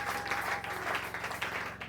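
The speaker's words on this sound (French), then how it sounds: "Est-ce qu'on peut acclamer très fort pour la gloire de Dieu?" A church congregation applauding during a sermon, a dense steady wash of clapping from many hands with a faint voice and a low background hum.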